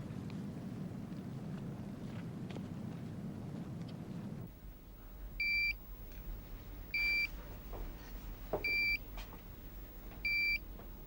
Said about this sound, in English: she's only set off one alarm